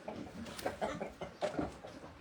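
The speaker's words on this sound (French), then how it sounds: "je fais aussi des petits poulets. On appelle les brahmas" Brahma chickens cluck close by in a few short, soft bursts, pausing between calls.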